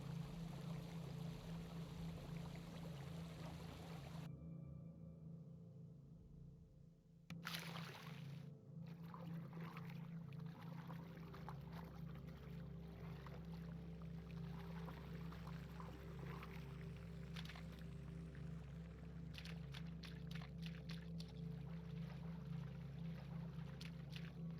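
A cave waterfall in the game DDO pours with a constant rushing, trickling roar that drops away briefly, then returns, steady and fairly close, with no talking.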